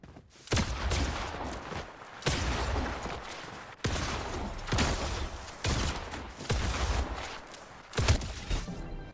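Player's own gunfire in an online shooter game: dense, sustained bursts of loud shots and impacts, several long volleys separated by brief gaps, up close and continuous with no voices.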